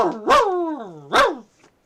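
A man vocally imitates a dog, two drawn-out bark-like yelps, close and loud, with a short pause between them.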